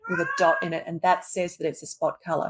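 A house cat keeps meowing in repeated cries underneath a continuous stream of nearby speech, its voice partly masked by the talking.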